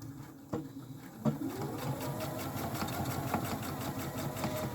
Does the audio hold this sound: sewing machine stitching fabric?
yes